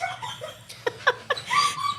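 Dogs at the Jackson County dog warden shelter give short yips and whimpering barks, several quick close calls in a burst under a low background hum.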